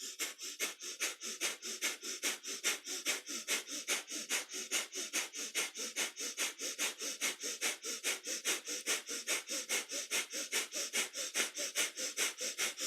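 Strong rhythmic breath of fire from kundalini yoga, pumped from the navel, a fast steady train of sharp nasal exhalations repeating about three times a second, close and even throughout with no talk.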